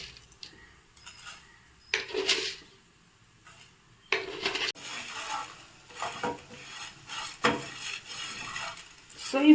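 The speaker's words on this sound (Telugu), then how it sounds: "సో ఇవి మనము కొంచెం కలర్ వచ్చే వరకు ఫ్రై చేసుకుందాము. ధనియాలు 2 స్పూన్స్ వేసుకుందాము." Coriander seeds being dry-roasted in a pan, with intermittent scraping and clinking of a spoon stirring against the metal, in short bursts separated by quieter gaps.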